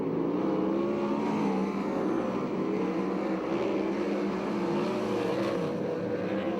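Sprint car engines roar in a race at Hanford, a continuous droning buzz of several engines running together at steady volume, moderately distant and without pause.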